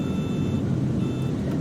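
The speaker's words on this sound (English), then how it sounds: "Not with the altitude and speed alarm." A flight simulator game's altitude and speed alarm sounds as two steady high electronic beeps with a short gap between them, over a constant low engine rumble.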